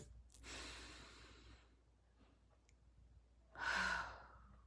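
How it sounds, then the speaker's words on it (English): One deep collective breath in during a group breathwork moment, heard as a soft, airy inhale and then a louder breathy exhale, close and quiet with no talking. "let's take one deep collective breath in together"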